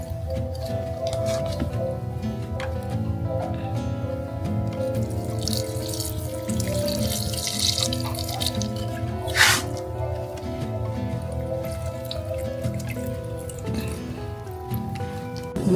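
Running water splashes and drips steadily while plants are watered, wetting the floor; a continuous close wash with one brief louder splash partway through.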